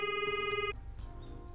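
A video game telephone rings with a bright electronic trill that cuts off after under a second, followed by a faint click and low background hum.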